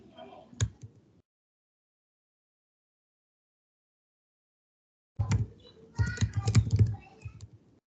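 Someone types on a computer keyboard during a live data science class, a short tap burst, a long silence, then a busy run of close, rapid keystrokes.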